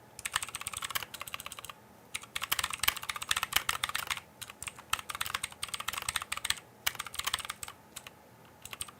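Rapid computer keyboard typing during a Type Racer speed-typing game, bursts of close, dense key clatter broken by brief pauses, with no talking.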